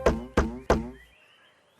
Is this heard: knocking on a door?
yes